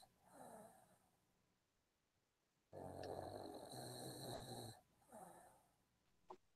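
A man asleep snores in slow, rhythmic breaths, one long loud rasping snore in the middle between softer inhalations, fairly close and alone.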